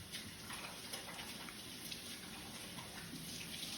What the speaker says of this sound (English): so now I'm gonna wash my hands real quick